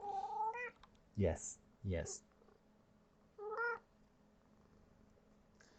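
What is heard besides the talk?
cat meowing and purring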